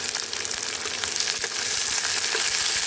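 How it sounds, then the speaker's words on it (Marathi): Chopped onions fry steadily in a steel kadhai on an induction cooktop for a potato-and-pea sabzi, giving a dense, continuous close-up sizzle with faint scraping stirs and no talking. "आता ह्या चांगलं भाजून घेते मी."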